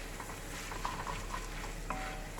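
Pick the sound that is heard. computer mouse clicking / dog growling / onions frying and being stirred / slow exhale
onions frying and being stirred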